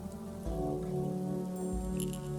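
Rain hisses steadily in the video game Lovecraft Country on a deserted Paris street, with a low droning ambience underneath and faint high tones near the end.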